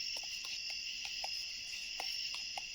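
Night insects, crickets among them, fill a dark trail in Hawn State Park with a steady, dense high chirring drone, broken by faint scattered clicks and ticks close to a camp lamp.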